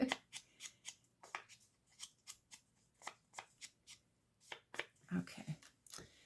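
Scissors cutting a circle out of paper for a zig zag pocket folder craft, a steady series of short crisp snips close by, evenly spaced, with a brief muffled handling rustle near the end.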